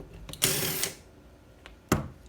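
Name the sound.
loosening a 6 mm Allen bolt at the bottom of a fork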